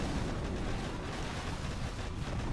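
Artillery explosions in a video game, heard as a dense, continuous roar of overlapping booms and rumbling blasts with no clear gaps.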